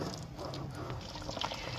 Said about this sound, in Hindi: तो अब हम डालने लगे हैं जी अपनी ग्रेवी में